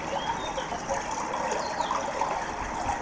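River water flows steadily past with a soft, continuous rushing and trickling hiss. It stays even and unbroken throughout, with no voices.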